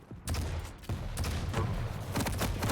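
Rocket launcher fire during a Quake Pro League match: repeated heavy blasts and explosive bursts come in quick succession, loud and dense, with a continuous rumble of game action between them.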